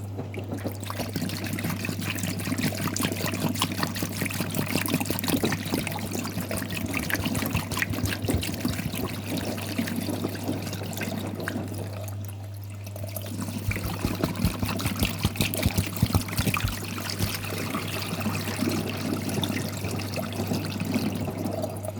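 Water poured in a steady, continuous stream for a long stretch, a close trickling rush with a brief dip midway before flowing on, over a low constant hum.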